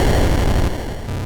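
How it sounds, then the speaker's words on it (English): Atari 2600 Pole Position racing game: a loud, harsh crackling burst of noise for a car collision, filling the short clip and easing slightly toward the end. "or the sound of a collision"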